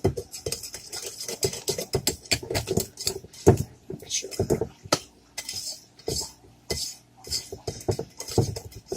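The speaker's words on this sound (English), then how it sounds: "So we're going to mix it really good." A utensil stirs dark chocolate cake batter in a bowl, producing a steady run of close clinks and scrapes against the bowl at an uneven, busy rhythm.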